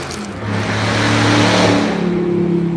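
A car speeds past nearby on a street, its engine rising in a loud, swelling whoosh that peaks midway and then holds on as it pulls away, with no talk.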